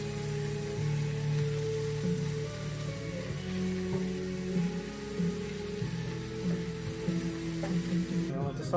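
Asparagus, mushrooms, garlic and shallots sautéing in butter in a skillet, a steady sizzle with occasional stirring scrapes and clinks, close and moderately loud.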